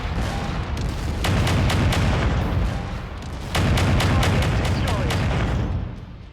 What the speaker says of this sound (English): They are bombarding me quite efficiently